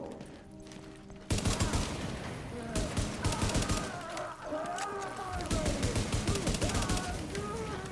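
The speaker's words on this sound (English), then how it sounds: "those shots all missed" Video game gunfire in a survival PvE match: after a quiet start, a sudden burst of rapid shots turns into sustained automatic fire that crackles on loud and steady, with voices mixed in underneath.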